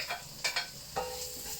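Garlic sautéing Kapampangan style in a pan, a soft frying sizzle broken by a few brief stirring scrapes and clinks, close and fairly quiet.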